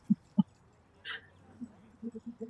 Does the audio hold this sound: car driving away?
no